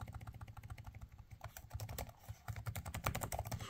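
Fingers type quickly on a laptop keyboard, a dense run of soft close key clicks with no pauses, over a low hum and no voices.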